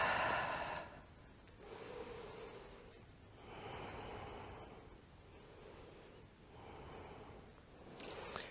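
Slow, steady breathing during a power vinyasa yoga flow, long airy inhales and exhales in an even repeating rhythm of about four breath cycles, close and moderately loud, with no talk.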